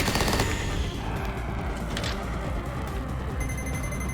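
Rapid, dense machine-gun-style fire from an indie mech video game rattles continuously at close range with heavy booming weight throughout.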